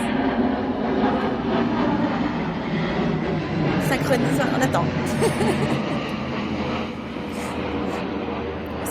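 An airplane passes overhead on a forest walk, a broad distant rumble that swells and fades beneath a person speaking French.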